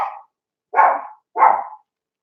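A puppy barks three times at close range, each bark short and sharp with clean silence between them.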